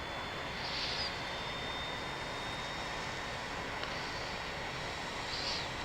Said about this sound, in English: engine's starting to fire up